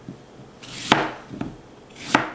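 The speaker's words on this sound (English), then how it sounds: "I'm just basically cutting them up, taking that core out, and throwing them in the crock pot" A kitchen knife chops through apples on a cutting board, with three or four crisp, separate thunks and short slicing strokes between them, close and clear with no talking.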